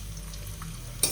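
Chopped onions frying in a pan for street-style chow mein give a steady soft sizzle, with a brief louder scrape of stirring near the end.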